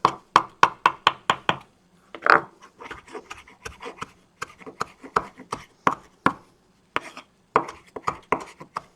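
Knife chopping vegetables finely on a cutting board while making farro and bean dishes, with quick bursts of close, crisp taps in fast runs separated by short pauses.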